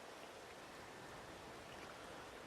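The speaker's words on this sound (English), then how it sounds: "I don't know how long this rain is going to last" Steady rain falls on a farm as a dense, even hiss with no breaks and no voices.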